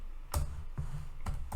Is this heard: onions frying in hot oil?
no